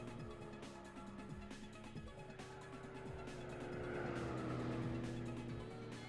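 Race car engines in Gran Turismo 4 drone and whine on the Monaco Cote d'Azur circuit, including a Marcos, with steady, shifting gear tones and a rising surge of revs partway through.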